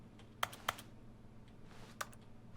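Keyboard clicks in The Stanley Parable video game, a few crisp close keystrokes in quick succession over a low quiet background hum, with no talking.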